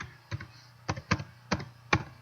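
Five or six distinct key taps on a computer keyboard, close and clear with short irregular gaps in a quiet room.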